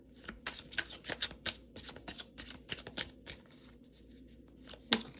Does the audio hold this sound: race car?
no